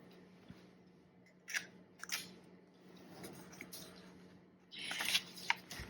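Soft scraping and rubbing as a vintage fountain pen is cleaned by hand, a few quiet crisp scratches and one busier rustling stretch near the end, close and faint with no talk.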